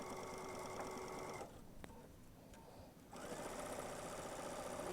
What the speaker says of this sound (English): now all the way around I'm going to stitch this down in the ditch so that it catches on the back